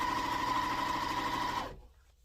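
A sewing machine runs steadily, stitching rows of a Cheyenne sampler quilt block together, a close, even mechanical whir that stops abruptly near the end and leaves near silence.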